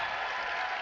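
Crowd at a Southridge versus Sullivan 2019 high school basketball sectional game breaks into dense, steady applause and cheering, loud and sustained through the whole short moment.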